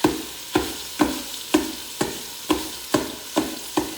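Sausage fries in a Ninja Foodi, with steady sizzling broken by regular scraping strokes of a utensil, about eight evenly spaced, close and fairly loud, no talking.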